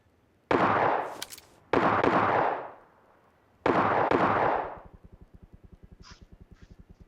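Gunfire in a shooting video game: three loud, booming shots ring out a second or so apart, each decaying slowly, followed by a rapid string of softer, evenly spaced pops.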